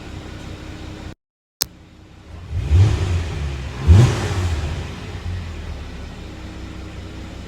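A car engine revs twice in quick surges, each rising then settling back to a steady idle hum, heard close and loud after a brief moment of silence.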